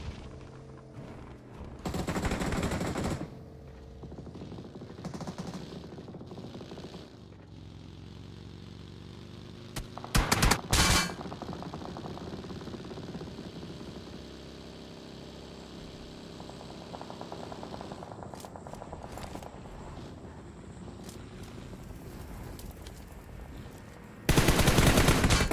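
Gunfire in the battle royale game PUBG Mobile during a competitive scrimmage, with a loud burst near the start, a sharp cluster of shots around the middle, and another burst at the end over a steady background of game ambience.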